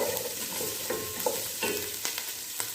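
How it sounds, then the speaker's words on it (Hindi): Sautéing for chicken soup, an ingredient sizzles gently in a pan while a spoon scrapes and stirs in a loose rhythm, close by with no talking. "थोड़ा सा सौते करेंगे, ज़्यादा ब्राउन नहीं करेंगे इसको।"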